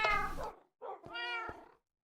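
Two meows from a cat in the video game Minecraft, close and clear: a longer first call, a brief pause, then a second drawn-out meow, with no talking.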